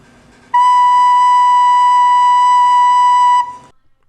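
A recorder sounds a single clear B note, held steadily for about three seconds at full volume, then stops cleanly, with no other sounds around it.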